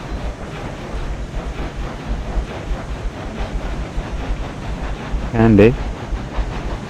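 A string of freight cars rolls slowly back past a switch in the Railroads Online train game, with a low, steady rumble and wind-like noise. A person speaks briefly over it.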